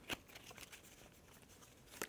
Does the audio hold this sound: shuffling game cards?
yes